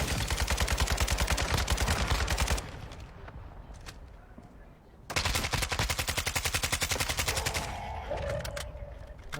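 Rapid automatic gunfire rattles in a shooter video game, two long sustained bursts of fast, evenly spaced shots separated by a quieter gap with a few isolated cracks.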